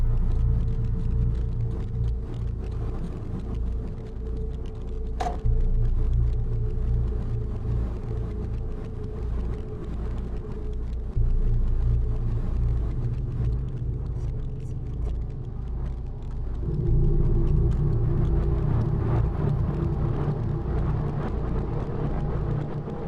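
Taxi cab driving through a city at night, a steady low engine and road rumble that holds throughout, shifting slightly in level as it goes.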